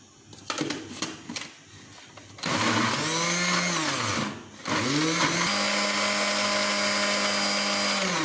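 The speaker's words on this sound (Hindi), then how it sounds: "ये प्याज भी इसी तरीके से इसके साथ पीस लूँगी मैं।" A kitchen blender grinds onion for mutton kabab, a few short clattering bursts first, then a long steady high whirring run that briefly stops and restarts at a slightly lower, steady pitch.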